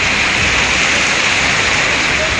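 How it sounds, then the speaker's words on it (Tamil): Moderate rain pouring steadily over Kodaikanal and its surrounding hills, a dense, even hiss of falling water that stays loud and constant throughout with no voices. "கொடைக்கானல் மற்றும் அதன் சுற்றுவட்டார பகுதிகளில் 2 மணி நேரத்திற்கு மேலாக மிதமான மழை பெய்தது"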